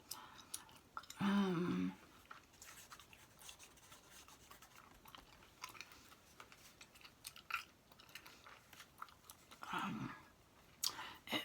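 Quiet close-up chewing of bubble gum, soft wet clicks and smacks scattered throughout, with two louder puffy bursts of bubble blowing, one early and one near the end.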